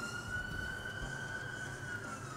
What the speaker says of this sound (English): What the hell is with it with ambulances on my street?